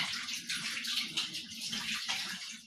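Running water splashes steadily into a kitchen sink during washing, a continuous close hiss with small gurgling surges and no talking.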